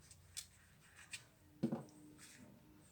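Pencil or pen scratches in short, faint strokes on paper while a line graph is drawn, a few quick marks spaced apart in a quiet room.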